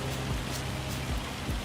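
Rain falls in Farming Simulator 25 after grass has been cut, a steady, dense patter on surfaces, continuous and fairly loud, with low thuds now and then and no talk.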